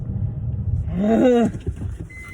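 Squeaky car brakes on a vehicle slowing down squeal in a rising, wavering tone for about half a second, sitting over low road rumble and engine noise.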